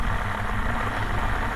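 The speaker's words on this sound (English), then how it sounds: "So there's huge laundry machines" Huge industrial laundry machines in the Dishonored game room on Tusk Island churn with a dense, steady mechanical drone and low rumble, loud and unbroken throughout.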